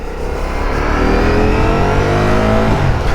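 A Ducati Streetfighter V4S motorcycle engine revs loud and close, a steady dense roar that rises in pitch and then eases off toward the end.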